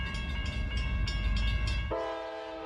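A train rumbles past with rhythmic wheel clatter, then a long blaring horn sounds over it and fades out at the end.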